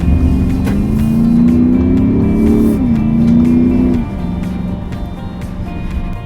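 An Audi SQ7 with a 4.0 TDI V8 pulls out from a side road onto a main road, its deep engine note rising steadily under acceleration, then settling after a gear change, loud and close from inside the cabin.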